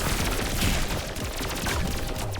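A big explosion in the video game Pathogenic, heard as a dense, sustained roar of crackling bursts like heavy gunfire, loud and steady for the whole stretch with a brief dip midway.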